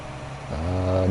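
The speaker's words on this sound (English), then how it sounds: "Driving the tractor." A farm tractor pulling a plow, its engine note holding a low steady drone, then climbing and growing louder as the revs rise partway through.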